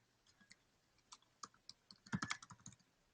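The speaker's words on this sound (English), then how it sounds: "Okay, I'm typing that in." Fingers type on a computer keyboard at close range, quiet sparse key clicks that speed up into a brief, denser flurry of taps.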